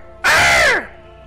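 A single loud crow caw rings out for about half a second, harsh and close, then drops away into quiet background with no talking.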